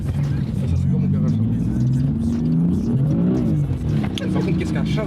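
A BMW M4 engine revs hard while drifting, a loud, continuous growl whose pitch rises and falls in waves and climbs sharply near the middle, heard close with voices talking over it.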